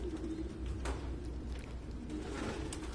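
Pigeons coo in low, throaty bursts in the video game Detroit: Become Human, with two clear calls near the start and end over a steady indoor ambient hum.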